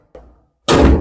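A desktop computer CPU cabinet's lid is pulled open: a soft knock, then a sudden loud, broad scraping clatter of the metal side panel sliding free, close by with no talk.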